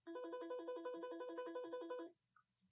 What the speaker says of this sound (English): Is that the phone? Yeah, it's Tommy's desk phone.